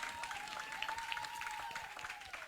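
A church congregation applauds in sustained, dense clapping that fills a large hall, with a faint tonal hum running underneath.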